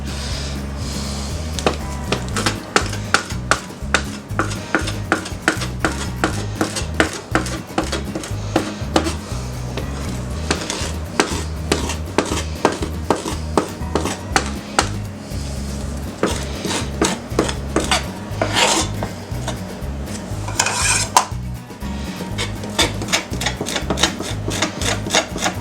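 A big knife scrapes and cuts along smoked BBQ chicken on a board, cleaning meat off the carcass in a steady run of close, rasping strokes and knocks with no talk.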